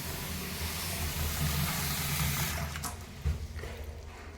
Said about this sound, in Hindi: मोटर ऑन कर दी है, पीने का पानी भरना पड़ता है यहाँ से।